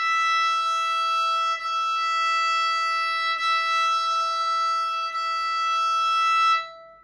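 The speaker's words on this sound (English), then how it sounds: "And here's the E string." Steady bowed note on a violin's E string, sustained for about six and a half seconds with slight bow changes, bright and close with no speech.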